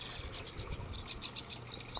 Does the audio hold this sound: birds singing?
yes